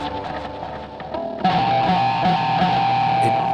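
Electric guitar prepared with a penny wedged between the E and B strings, heard alone with a distorted, metallic, clangy ring that swells louder midway and sustains as a dense buzzing drone.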